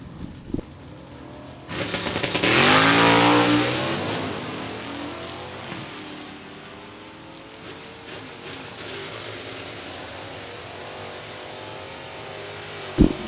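A drag racing run between an '86 Chevy C10 and a Copo Camaro: a loud engine roar surges in, peaks, then fades into a sustained distant drone against crowd and track ambience.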